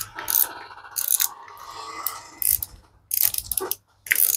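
Clicking, ratcheting handling of a fishing reel's spool cap, with bursts of mechanical clicks and scrapes separated by short silent gaps, close and fairly loud.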